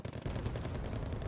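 Heavy artillery and rapid gunfire in a video game battle, a dense, continuous low rumble of overlapping shots and blasts holding steady at moderate loudness throughout, with no voices.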